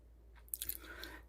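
Quiet, close chewing of a buttery, salt-sprinkled Parker House roll, with a few soft crunchy bites and moist mouth sounds over a low background hum.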